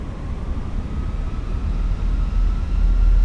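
Airbus A319 engines spool up in the Fenix flight simulator as the throttles go to about 40%, a loud, steady low rumble and roar that swells gradually, with no talking.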